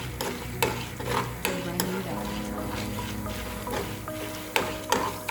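Chana dal frying in the few spoonfuls of oil left in the pan for a dry onion-garlic chutney, giving a steady close sizzle broken by sharp spoon scrapes and stirring knocks.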